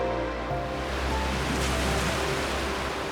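Turbulent river water churns on the Grand Canal in a constant, dense roar of rushing current, loud and close, with a low steady rumble underneath.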